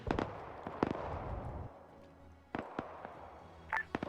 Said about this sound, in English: Now you got the tanks firing at the AA gun, though.